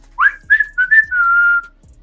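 A person whistles a short tune close up: a few rising chirps, then one long held note, loud and clear with no talk.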